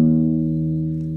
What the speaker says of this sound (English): so you play the open E string,